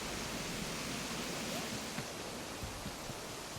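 A waterfall on a video game island map, inspired by The Shining's Overlook, gives a steady, dense broadband rush of falling water, constant and fairly close with no pauses.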